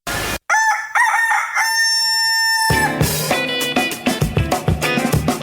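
A chicken lets out a loud, close, strained crowing scream, long drawn-out cries followed by a burst of rapid squawking clucks, alone with no talk.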